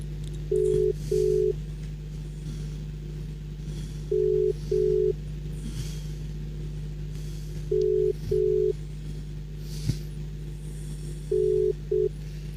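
Telephone keypad tones beep in paired bursts as a call is dialed, four groups of two short beeps spread evenly over a steady low hum, with no voices.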